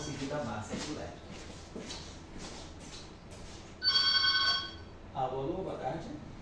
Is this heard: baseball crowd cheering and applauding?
no